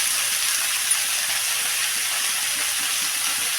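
Spiny gourd fries in a hot pan with turmeric powder, giving a loud, steady sizzle and hiss that stays even throughout with no pauses.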